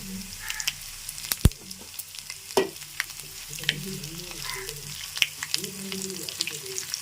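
Mustard seeds, fenugreek and cumin sizzling in hot oil while cooking a bottle gourd and tomato chutney, a steady frying hiss with sharp popping crackles and occasional stirring clinks, close and continuous.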